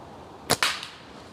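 A slingshot shot: a sharp snap of release followed almost at once by a crisp smack on the target, then a faint trailing rattle, close and isolated.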